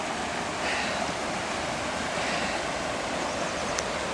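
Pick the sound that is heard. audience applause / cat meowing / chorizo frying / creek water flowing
creek water flowing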